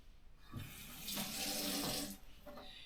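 Tap water running while a hand is wet under it, a brief splashing flow that swells for about a second, drops off, then returns briefly, close and without talk.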